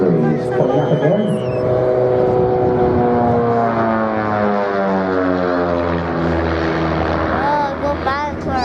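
Propeller drone of RV-8 aircraft in the FlightGear flight simulator at a Scottish airshow, a loud steady engine roar with shifting pitch as the planes pull up through manoeuvres, continuous throughout.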